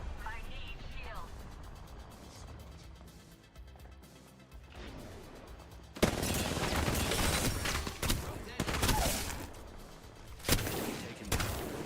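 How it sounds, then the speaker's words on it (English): Apex Legends combat with bursts of automatic gunfire and sharp impact cracks, quieter shots early then loud rapid volleys in the second half, mixed with in-game character callouts. "The enemies are shooting at me."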